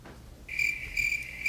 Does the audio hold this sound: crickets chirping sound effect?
yes